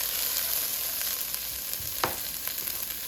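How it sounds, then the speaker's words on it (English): Onions sizzle steadily in a hot pan for a broccoli cauliflower soup, a constant close frying hiss with a few soft stirring scrapes and one sharper clink midway; no one speaks. "Gonna put our onions in. Give those a saute."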